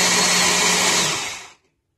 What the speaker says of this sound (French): on va se mettre à écraser jusqu'à obtenir une boisson somptueuse